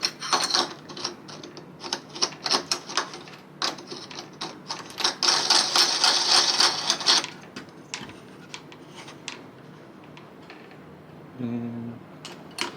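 Mechanical clicking and ratcheting from a screw being driven in while fitting a replacement doorknob, a dense run of close, sharp clicks that stops, followed by quieter handling and a brief tonal buzz near the end.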